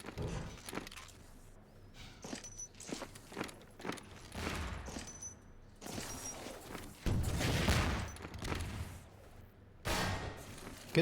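Rocket launcher blasts and gunfire in a Half-Life 2 Deathmatch match, a series of booming explosions and sharp shots spaced irregularly among footsteps and clatter, fairly close and loud.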